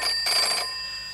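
An old telephone rings in a 1982 British comedy film, giving one short electric bell burst that stops abruptly. A steady high electrical whine hangs underneath.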